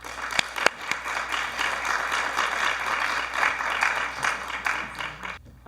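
An audience at a talk on empathy and equity in museums applauds steadily to welcome a speaker, a dense wash of many hands clapping that lasts several seconds before thinning out at the end.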